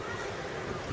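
Wind and waves batter Subic Bay in May, a steady, dense roar of surf and gusting wind buffeting the microphone, loud and unbroken with no clear voices.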